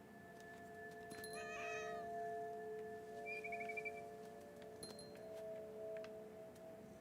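A cat that has been stalking a bird gives one drawn-out, wavering meow near the start, then stays quiet while faint chirps and a steady background hum continue.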